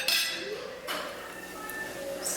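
A metal lid is set back onto a cooking pot with a short clink and scrape over steady kitchen sizzle, followed by a brighter ringing clatter near the end.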